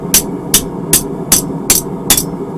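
Hot steel being hammered flat on an anvil while forging a shamrock: six sharp, ringing hammer blows at an even pace, loud and close, with no talking.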